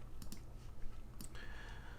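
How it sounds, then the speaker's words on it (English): A few light clicks and taps on a computer keyboard, sparse and fairly quiet, with a brief cluster of keystrokes and a final key press over faint room noise. "when I hit enter on my keyboard"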